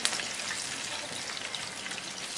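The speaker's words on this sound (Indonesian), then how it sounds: "Kita akan goreng lagi sampai nanti semuanya habis." Fritters frying in plenty of hot oil, a steady dense crackle and sizzle that runs on without pause, close and moderately loud with no voices.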